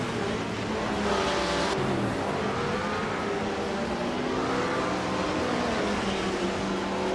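Race cars roar around a track, a 1965 Lotus 40 among them, with loud continuous engine tones rising and falling as gears shift and cars pass close by.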